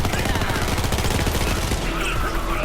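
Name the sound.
EMP5 gun firing in a video game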